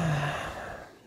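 A deep exhale through the mouth during yoga breathing, a single long, breathy rush of air that starts full and gradually tapers off, close and alone.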